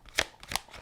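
A deck of tarot cards is shuffled and cards are drawn, giving a few quick, close riffling bursts heard alone with no talk.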